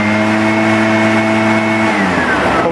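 An Echo PB-500T backpack leaf blower engine runs loud and steady at high throttle, close by, then its pitch drops as the revs fall off near the end.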